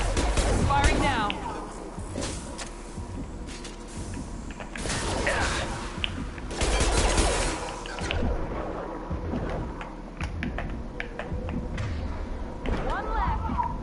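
Gunfire in the video game Mass Effect 2 during a firefight: bursts of shots and impacts crackle in irregular clusters across the scene, mixed with mechanical clatter, while voices speak over the combat.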